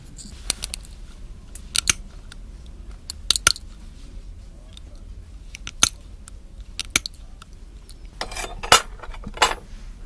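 Shears snip solder into small pallions in a series of sharp, close metallic clicks, irregularly spaced with short clusters and quiet pauses between cuts, no talking.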